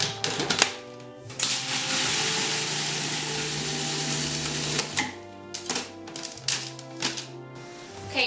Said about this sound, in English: You just wanna pulse this all together so that the almonds are about the same texture as the sugar.